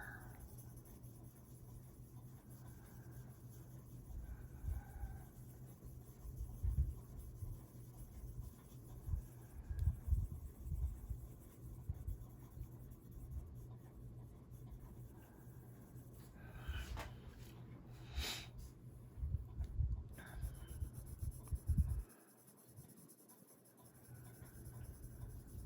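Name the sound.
Prismacolor colored pencils coloring on paper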